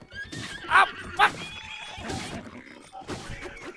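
In the video game Breath of the Wild, a horse gives two short, sharp whinnies during horseback combat. Game effects and a man's excited speech surround the calls.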